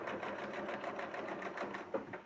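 A quilting sewing machine stitches fabric with a steady, rapid mechanical rattle and hum, close and continuous with a slight thump near the end, no talking over it.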